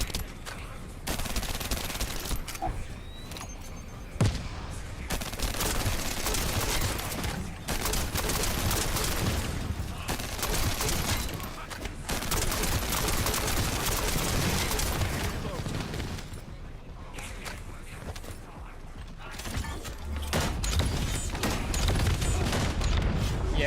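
Sustained gunfire aimed at an aircraft in The First Descendant, dense rapid bursts with booms that keep going for the full stretch and barely pause, loud and close, with occasional game speech underneath.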